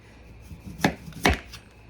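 A knife cuts the ends off a rutabaga in two crisp, separate chops against a cutting board, each a short sharp thunk, close and clear with quiet between them and no talking.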